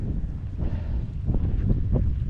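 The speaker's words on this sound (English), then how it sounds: "Just wish the wind would quit completely." Wind gusting over the North Saskatchewan River on a cloudy day, a steady low rumbling buffet with surges and rougher bursts building toward the end, close and fairly loud, with no voices.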